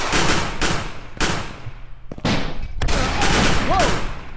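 Bursts of loud rapid gunfire in a video game come in repeated volleys with brief gaps between them, heard alone and up close.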